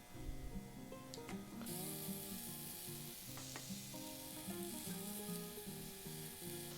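Shiitake mushrooms sear in a dry pan with no oil, giving a steady close sizzle that runs throughout, with a few light clicks and scrapes from the pan along the way.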